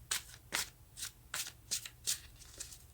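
Tarot cards are shuffled by hand in a quick, steady rhythm of about seven crisp riffling bursts, close and clear.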